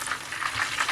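Battered cod pieces frying in hot oil in a pan, a steady close crackling sizzle with bubbling pops throughout, no voices.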